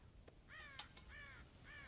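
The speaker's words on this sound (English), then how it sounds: "God damn crows!" Crows caw in the Red Dead Redemption video game, three hoarse calls in quick succession, faint and somewhat distant over a low background rumble.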